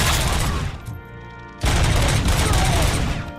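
Sustained bursts of heavy gunfire in the video game Robocop: Rogue City, loud and dense, breaking off briefly around the middle before a second dense volley resumes.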